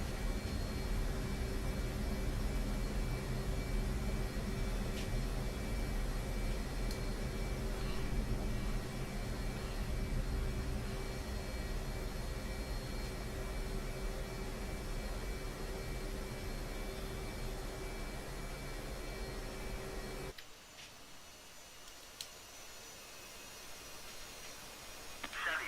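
Engine noise from an F-15E jet taxiing after landing in the DCS flight simulator, a steady whining roar that holds for about twenty seconds and then drops sharply to a faint hum.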